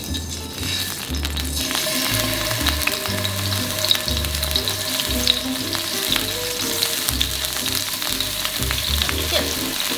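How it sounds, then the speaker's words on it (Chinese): Bacon sizzling and frying steadily in an oiled pan over medium-low heat while making okonomiyaki at home, a continuous crackling hiss with occasional utensil clinks and no talk. "我们下培根"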